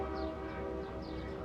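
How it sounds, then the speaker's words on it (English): Long Island Rail Road train passing in Greenpoint, Brooklyn, a steady low rumble of railcars with a sustained horn-like tone held throughout, heard from a distance. "that is the Long Island Railroad train you just heard"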